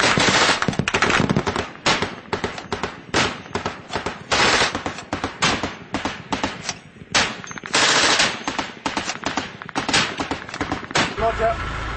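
Rapid bursts of automatic gunfire crack repeatedly during a Royal Marines patrol in Helmand, loud and dense with short pauses between volleys, and voices come through at times.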